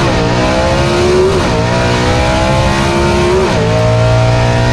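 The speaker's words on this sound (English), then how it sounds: "Keeps that throttle buried while he just tapping that clutch and shifting gears." A vintage gasser drag race car at a Southeast Gassers event in Aiken, NC, roaring down the strip with throttle held wide open, loud and close, engine pitch climbing then dropping sharply at each quick gear shift, twice.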